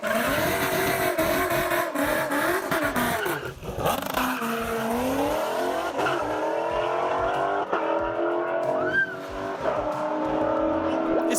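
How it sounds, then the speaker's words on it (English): Honda Civics racing hard, engines revving loudly with sweeping pitch changes and bursts of tire squeal and skidding, close and continuous, with voices mixed in. "It's not every day you see people race in Civics."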